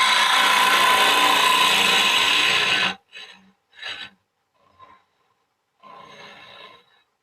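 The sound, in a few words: woodturning tool cutting wood along the bevel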